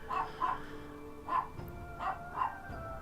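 A dog barking at dinner time, five quick, evenly spaced barks in two clusters, moderately close over a low background hum.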